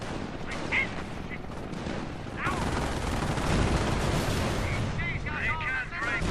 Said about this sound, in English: Panther itself taking 18 rounds now